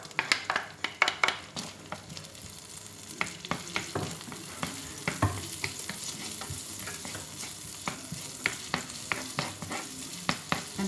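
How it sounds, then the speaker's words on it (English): Garlic fries in butter and oil in a pan, giving a continuous crackling sizzle broken by frequent clinks and scrapes of a stirring utensil, close and unaccompanied by talk. "Now I'm going to put the garlic."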